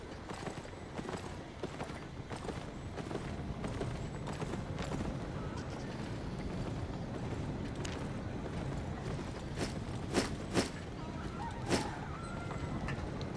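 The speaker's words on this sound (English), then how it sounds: "I called the donkey." A donkey mount in the video game Albion Online clip-clops steadily, its hooves tapping in a brisk, even rhythm at close range over a busy game ambience, with a few sharper knocks near the end.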